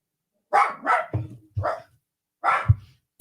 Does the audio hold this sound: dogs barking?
yes